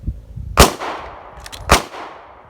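Two sharp pistol gunshots on a live-fire range during a fast reload drill, loud and close, about a second apart with short echoing tails and no talking.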